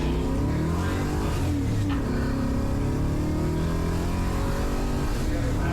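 Chevrolet Chevelle SS making short, hard acceleration pulls, its engine roaring loud and continuous with rising and falling pitch, dense and close throughout.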